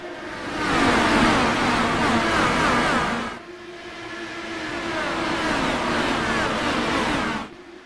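IndyCar Open Series race cars in the iRacing video game accelerating at the race start on the Iowa short track. A loud, roaring surge of engines sweeps past, drops briefly, then a second wave roars by.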